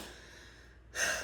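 A faint, steady exhale sounds close into a microphone, then a slightly louder breath swells at the end, quiet and intimate, with no talking.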